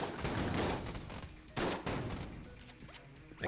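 Shotgun blasts with explosive rounds go off in the Enter the Gungeon game. Two loud clusters of rapid, crackling gunfire and bursts are followed by a quieter, fading tail.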